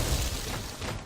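A large in-game explosion from Star Wars: Knights of the Old Republic, a dense, loud, sustained roar with heavy low rumble filling the whole moment, heard alone without talk.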